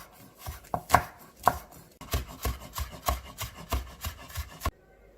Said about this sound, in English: Cut coriander very fine. Slice the onions very fine.